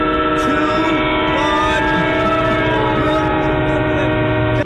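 Loud, sustained train horn tones ring over the rumble of a train at a station, the horn chord holding steady throughout with faint rail noise beneath.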